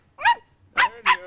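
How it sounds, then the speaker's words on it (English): A dog in a radio drama gives three short whimpering yelps as it is picked up by the scruff of the neck, close and distinct, with quiet gaps between them. "picked up the dog by the scruff of the neck, and started to pet him"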